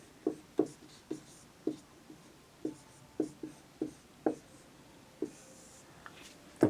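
A pen scratches on paper in short, separate strokes, about a dozen quick taps and scrapes spaced unevenly at close range, as someone writes out a math problem in a quiet room.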